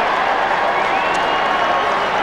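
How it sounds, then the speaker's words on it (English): Australian football crowd at a 1996 West Coast versus St Kilda match, a dense sustained roar of hooting and cheering spread evenly across the stand, loud and continuous without breaks. "And the crowd's hooting as Stewie Lowe comes in for his second goal."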